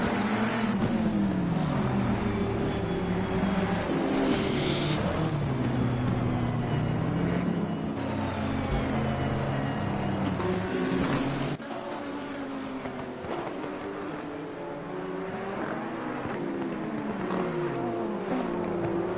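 Race cars in a racing video game roll through a formation lap at Misano, a steady layered engine drone with shifting pitches running throughout, loud and continuous, dipping slightly in level partway through.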